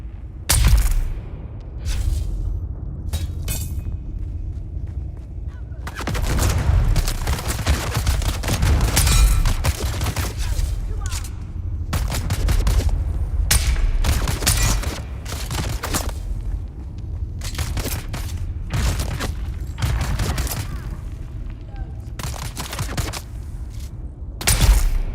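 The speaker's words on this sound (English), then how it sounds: "Shots aren't coming from you, are they? Dang, I guess they were." Gunfire in the video game Dune Awakening crackles in repeated rapid bursts and volleys over a deep rumbling bed, loud and close, with short lulls between the barrages.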